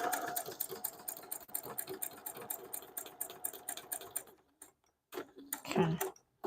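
A sewing machine runs steadily for several seconds while paper piecing a quilt block, fast mechanical stitching ticks close by, then it stops and a brief handling sound follows.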